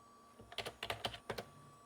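Several computer keyboard keys pressed in a quick cluster on an old Dell OptiPlex GX110 desktop to paste files, about five crisp clicks, close and clear over a steady faint hum.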